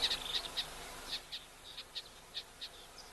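Small birds, including cutthroat finches and an indigo bird, calling at an African waterhole: a series of short high chirps repeating every few tenths of a second, faint and fairly distant over quiet background.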